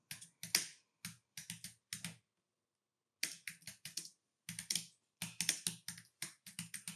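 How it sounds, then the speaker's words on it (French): Quick keystrokes on a computer keyboard as a style name is typed, crisp close taps in short bursts separated by a pause of about a second, with no talking. "Je vais taper le nom du style du chapitre"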